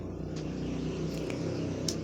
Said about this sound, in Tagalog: pasensya na kayo sa mga dumadaan na sasakyan na